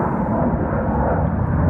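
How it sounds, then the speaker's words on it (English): Jet aircraft passing over a house near an air base, a steady loud low-frequency roar rumbling evenly through the whole stretch with no voices. "there's jets flying over the house"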